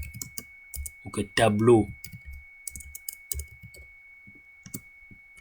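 Computer keyboard keystrokes while typing in MS Word, a run of soft clicks heard under someone speaking French throughout.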